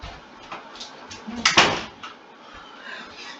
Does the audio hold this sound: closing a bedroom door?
yes